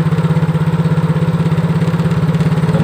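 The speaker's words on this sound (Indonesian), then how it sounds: "Coba ditambah gas pelan-pelan" A small engine runs close and loud, its rapid pulsing beat steady through the clip as the throttle is eased up slowly from idle.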